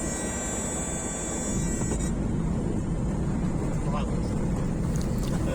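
A light aircraft descends and touches down after a flight over the Vercors, its steady engine drone loud and close inside the cabin.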